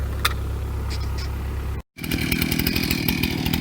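A chainsaw cuts through a red oak trunk near its crotch, the engine roaring loud and steady, then breaking off for a moment before snarling back under load with a rapid, gritty pulse.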